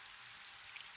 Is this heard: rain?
yes